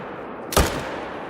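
A single loud, sharp .300 magnum rifle shot cracks out during a buffalo hunt in theHunter: Call of the Wild, its boom decaying quickly against quiet ambient background.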